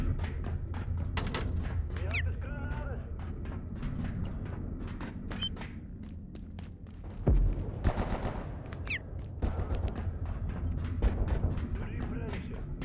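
Sniper gunfire in the video game Abiotic Factor: sharp shots and bursts crack out repeatedly at irregular intervals over a low background hum, with one heavier blast about halfway through.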